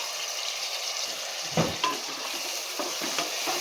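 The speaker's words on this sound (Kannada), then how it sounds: "ನೀಟಾಗಿ ಫ್ರೈ ಮಾಡ್ಕೊಬೇಕಾಗುತ್ತೆ ಈ ರೀತಿಯಾಗಿ" Ground masala paste fries in oil for a potato, brinjal and chickpea sambar, giving a low continuous sizzle broken by a few stirring scrapes of a spoon in the pan.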